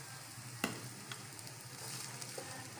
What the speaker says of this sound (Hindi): ये हमने पैन के अंदर 1 टेबल स्पून घी डाल दिया है। अब इसमें प्याज हम सौते करेंगे पहले हल्की हल्की सी।